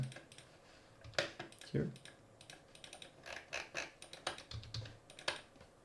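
Rapid, uneven keypresses clatter on a computer keyboard, close and fairly quiet, while a person talks over them throughout.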